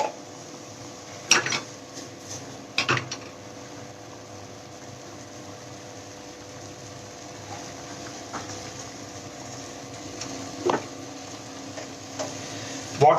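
A butter mixture stirred in a pan over rising heat, with a faint, continuous low sizzle and occasional sharp clicks and scrapes of a utensil against the pan.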